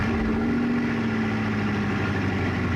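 Bugatti Divo, a mid-engine track-focused sports car, rumbling steadily at close range with a loud, constant low drone and a steady tone throughout.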